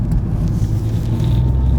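A Peugeot 308 GT Line accelerating, heard from inside the cabin as a loud, steady low engine and road rumble that holds throughout the short stretch.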